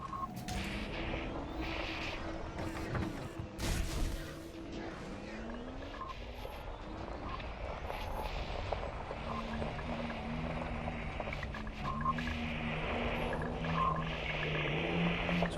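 A vehicle in Elite: Dangerous grinds up a side slope, with a steady engine drone, scrapes and skidding bursts, and thuds running continuously at close, moderate level without talk.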